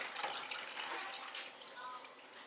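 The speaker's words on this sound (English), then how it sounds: "So as Kaya's demonstrating by getting some orange juice right now." A child pours orange juice from a jar, making a soft, faint trickle and splash of liquid that lasts a couple of seconds.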